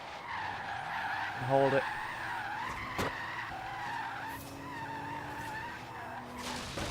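A Tesla P90D electric car, which has a single gear, slides sideways in a drift, with its tires skidding and squealing in a sustained smear and a brief louder burst. A person talks over it throughout.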